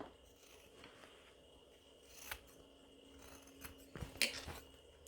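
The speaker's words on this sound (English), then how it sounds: "I'm going to take some scissors and I'm just going to clip off the excess around the corners" Scissors snip away excess fabric around the corners of a sewn wristlet pouch, giving a few quiet, close cuts that cluster near the end over a soft room background.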